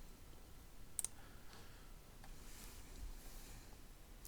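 Computer mouse clicks during work in Blender, a quick double click near the start and another single click at the end, faint and close against a quiet background hiss.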